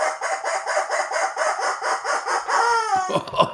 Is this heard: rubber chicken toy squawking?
yes